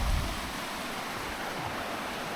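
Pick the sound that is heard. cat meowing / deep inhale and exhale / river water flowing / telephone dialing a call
river water flowing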